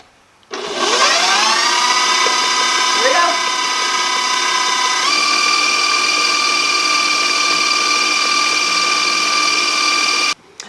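An electric stand mixer beats homemade cake batter, its motor whirring up to speed and then holding a steady, loud hum with a brief shift partway through before switching off.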